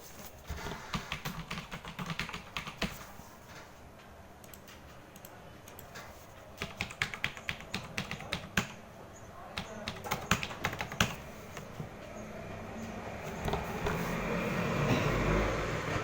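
Computer keyboard typing in quick irregular bursts, close and moderately loud, as form details are entered at a desk, with a steady hum underneath and a rising broadband noise toward the end.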